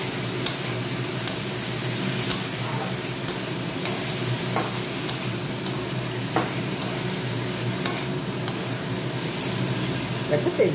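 Spices and oil are stir-fried in a pan, giving a steady, close sizzle throughout, broken by regular sharp taps and scrapes of a spatula against the pan.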